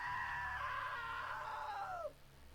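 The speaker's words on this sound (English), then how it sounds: "Now That was a great scream" A woman's long, high-pitched scream in the video game What Remains of Edith Finch rings out clearly for about two seconds, then bends downward in pitch and breaks off abruptly, with no talk over it.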